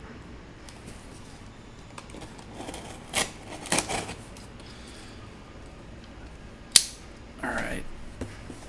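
A blade slices open a mail package in a few short, sharp cutting and tearing bursts with quiet gaps between them, close up, with a brief spoken word in the middle.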